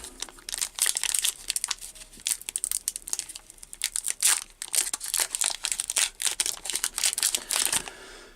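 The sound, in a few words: Pokémon card booster pack being opened, wrapper crinkling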